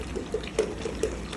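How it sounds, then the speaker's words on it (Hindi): Water pours into a container at home in a steady, close run of splashes and trickles with small gurgling bursts, with no one talking over it. "डाल लेंगे अब इसके अंदर पानी"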